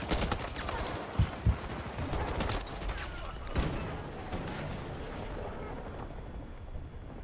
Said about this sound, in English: Why are you shooting me?